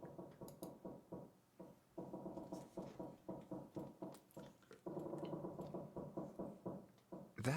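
Creaking in the puzzle game 999: Nine Hours, Nine Persons, Nine Doors sounds as a quiet, rhythmic series of groaning, knocking pulses, repeating steadily about twice per second with a few brief pauses.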